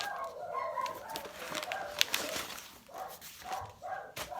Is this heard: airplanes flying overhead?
no